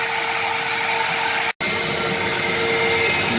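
A CNC router, a Shark HD510, cuts mounting and vacuum holes in a 24-by-24-inch vacuum jig, giving off a loud, steady, high whining drone that cuts out for a split second before resuming.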